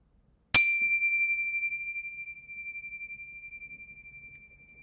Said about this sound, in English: We could consider a sound created by a chime.